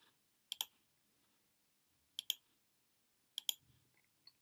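Sharp computer mouse clicks come in three quick double-click pairs, spaced a couple of seconds apart, as eye icons toggle map services on and off in quiet surroundings, with one faint click at the end.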